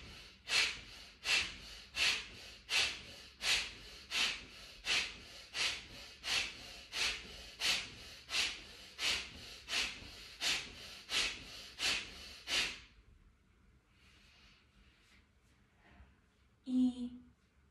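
Kapalabhati breathing, a series of about seventeen sharp, forceful nasal exhalations in a fast, even rhythm, close and clear, followed by a brief quiet pause and a few softer breaths.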